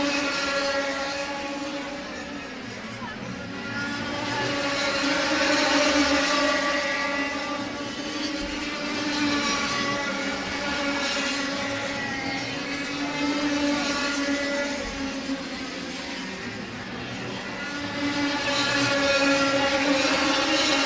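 Several racing kart engines revving near 20,000 rpm at the Whilton Mill track during an NKC Cup round, a sustained high-pitched buzzing drone that swells and fades as the karts pass.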